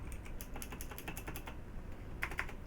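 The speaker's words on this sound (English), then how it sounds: "Pressing various keys." Computer keyboard keys pressed in an irregular run of light taps during a Star Citizen Alpha 2.5 session, close and steady, followed by a couple of sharper clicks near the end, with no talking.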